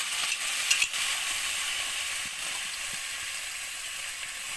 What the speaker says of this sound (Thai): ก่อนสิอบเนาะเฮาสิเอาน้ำมันจืดนิดนึงให้มันเหลืองๆให้มันหอม